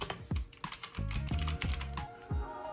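Rapid, uneven keystrokes on a cheap mechanical keyboard with pudding keycaps and Otemu blue or red switches, clattering close and loud as a steady run of clicky typing with no voices.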